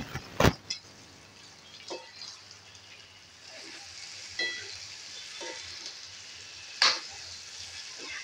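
Chickpeas, eggplant and other vegetables for Bhogichi Bhaji go into a pan one by one and fry with a low, steady sizzle. Sharp clatters from vegetables dropping in or stirring punctuate the sizzle, including one loud clack at the start, and nobody talks.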